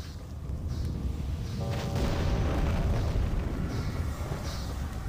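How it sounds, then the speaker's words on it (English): A blunderbuss blast in American McGee's Alice rings out as a loud, sustained boom with a rumbling tail over steady game background noise, no voices present. "second blunderbuss shot"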